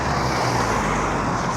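A car drives through an area with steady, broadband road and engine rumble heard from inside the vehicle, continuous and fairly loud, with no voices.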